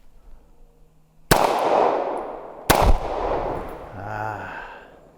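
Two sharp, loud shots from a CZ 75 SP-01 Phantom pistol fired at a can outdoors, about a second and a half apart, each with a long ringing echo trailing away.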